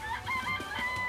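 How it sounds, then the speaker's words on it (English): A chicken in the video game Danganronpa clucks in a quick run of short, bright calls, close and fairly loud, with no talking. "It's a chicken."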